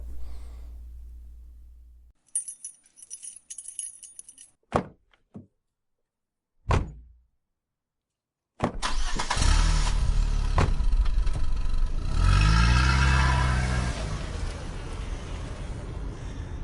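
Car door thunks shut after rustling movement, a second clunk follows, then an engine starts and a vehicle drives off, its steady road rumble swelling and easing as it pulls away.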